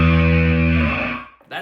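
One distorted bass guitar note fretted at the seventh fret on the A string rings thick and buzzy for about a second, then chokes off, followed by a short scratchy string noise.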